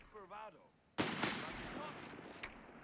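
Infantry rifles in Company of Heroes 3 go off together in one loud, close volley, a sharp burst followed by a long rumbling tail and a smaller late shot, after a brief stretch of quiet speech.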